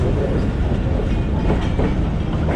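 The Mehar Express rolls along a line between Multan and Kot Addu behind HPU20 locomotive 8082, a steady heavy rumble with a faint rhythmic clatter of wheels, heard from on board.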